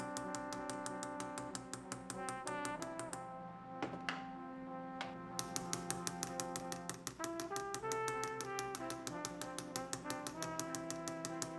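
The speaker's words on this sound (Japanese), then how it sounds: "950の刻印とハマメリスのロゴマークの刻印を打刻します" Steel stamps hammered into a forged 950 silver spoon to mark the hallmark and logo, a long run of crisp close metallic taps in quick irregular clusters with ringing overtones.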